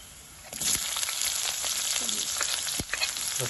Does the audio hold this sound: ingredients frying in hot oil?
yes